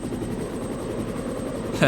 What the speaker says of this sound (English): sounds from the helicopter's rotor blades could be heard